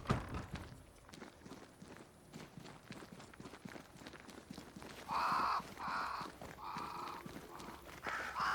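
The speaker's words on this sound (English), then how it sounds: "Crows. They flock to that great tree up there." Crows in the video game Banishers: Ghosts of New Eden caw in several loud, repeated bursts over a busy background of footsteps and rustling, with no talking.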